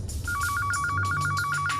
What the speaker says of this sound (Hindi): उसी समय मिस्टर शिनॉय का फोन आया